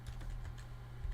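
Someone types on a computer keyboard with light, rapid clicks over a steady low electrical hum. The keystrokes are close but soft, and there is no talk.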